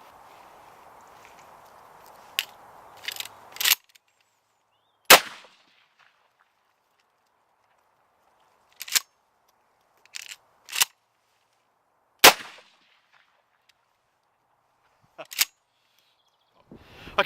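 Sharp, loud shots from 3-inch Magnum shotgun shells loaded with 50 gram BB shot, five or six separate blasts spaced a few seconds apart, each ending abruptly in near silence, with faint handling noise before the first.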